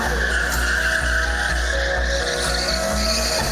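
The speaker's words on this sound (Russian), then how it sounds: "Дрифт от Эдуарда Николаева." A Kamaz-Master rally truck drifts at an exhibition show, with a loud, steady roar of engine and tire noise filling the whole stretch without a break.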